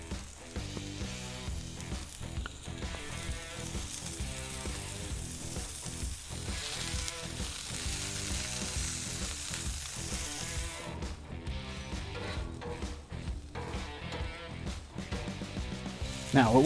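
Smash burger patties sizzle in oil on a hot Blackstone griddle, a dense continuous crackle and spit throughout, steady and close, with faint talk underneath.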